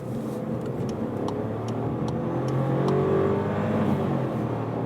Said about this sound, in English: VW Polo facelift, here with the 1 liter 3-cylinder, 110 horsepower turbocharged, and let's accelerate on the motorway